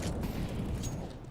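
Pistol fire in a Counter-Strike style competitive match, a dense burst of rapid overlapping shots and impacts with game ambience, fairly faint and without talk.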